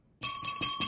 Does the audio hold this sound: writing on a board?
no